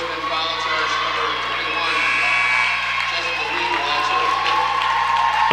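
Crowd on the Blue Devil sideline at a girls' high school basketball game raises a sustained cheer in a busy gym, with shouting and a steady wash of voices that holds loud through the whole stretch, no clear speech standing out.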